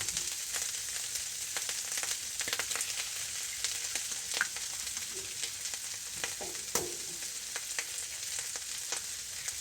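Organic eggs sizzling in a pan, a continuous crackling fry with scattered sharp pops and a few stirring scrapes, moderately quiet and close, no talking.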